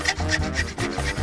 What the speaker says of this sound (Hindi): एक साधारण आरी मुझे इसे खोलने में मदद करेगी।